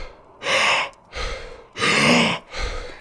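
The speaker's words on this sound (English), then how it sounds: "I'm just inhaling hard as much air as I can for, as much as I can" Hard, forceful inhalations during Wim Hof style breathing, two strong breaths in alternating with shorter, softer breaths out in a steady rhythm, close and loud.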